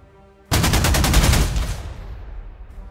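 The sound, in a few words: bombing attack in Panzer Corps 2 video game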